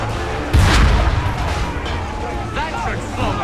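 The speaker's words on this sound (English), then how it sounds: "Neutralize platoons with a single cannonball." A cannonball fired from a cannon in Assassin's Creed 3 lands as a single heavy boom that rolls off into a rumbling tail, followed by voices and game background noise.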